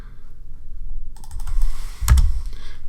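Keys clatter on a computer keyboard in a short burst of quick taps with one sharper click, close and moderately loud over low room noise, with no one speaking.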